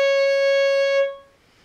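A fiddle sounds a clear, sustained C sharp, fingered with the second finger on the A string, held for about a second up close on its own before stopping.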